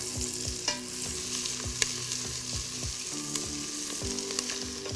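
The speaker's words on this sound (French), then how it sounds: "Une fois le beurre fondu, nous ajoutons les oignons. Et on va les laisser revenir" Onions fry in melted butter in a pan, a steady close sizzle with crackling pops, joined by occasional scrapes and clinks of stirring, with no talk.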